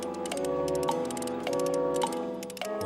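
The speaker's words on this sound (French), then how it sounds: "Le balancier devint l'instrument de précision des horloges." A pendulum clock ticks in a steady, even rhythm of sharp clicks, set against sustained musical tones in an animated educational series.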